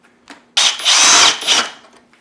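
Power drill driving a screw into a prop resistor on a Spirit Halloween Ghostbusters proton pack: a brief tap, then one loud, close whirring burst of about a second that slows and fades out.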